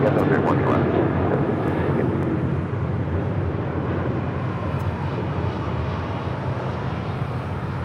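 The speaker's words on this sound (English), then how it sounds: "Flight coming in from Detroit, Michigan. Delta Airlines Flight 856 in this A321." Delta Airlines Airbus A321 arriving from Detroit at Los Angeles International Airport, its jet engines producing a broad, loud, continuous roar that fades slightly over several seconds, with speech running over it.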